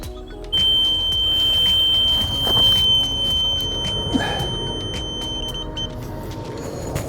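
Carp fishing bite alarm screaming during a fast run, a continuous high-pitched electronic tone sounding steadily and loudly over outdoor background noise.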